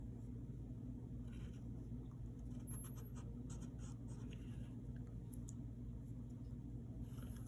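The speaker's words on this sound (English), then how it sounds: "Draw a curve here." A pencil draws a curve on paper for a cartoon of the Beast, making faint, close scratching strokes in short bursts over a low, constant background hum.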